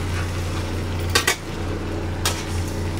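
Two short metallic clatters of a utensil against a pan while pomfret fish is flipped in a spicy curry, the first knock doubled and the second lighter, under a steady low kitchen hum.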